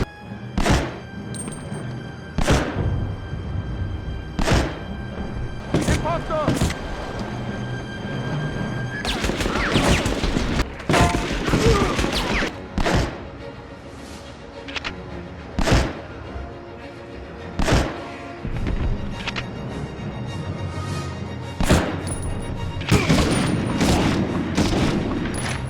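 Gunfire rings out in the Medal of Honor video game as shots strike enemies, heard as sharp, loud single reports repeated at irregular intervals over a constant background of game ambience and scuffling.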